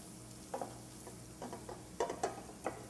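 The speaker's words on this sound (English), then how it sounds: "and then you're going to stir that around, lower my heat a bit" A spoon stirs a thick sauce base in a pan over low heat, giving a few soft scrapes and clinks over a faint sizzle. The sound is quiet and close, with no talk.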